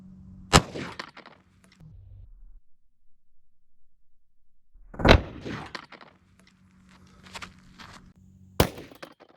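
A 9mm handgun fires at a cotton t-shirt target from about 15 feet, producing sharp, loud cracks spaced several seconds apart, with handling clatter and a low hum between shots.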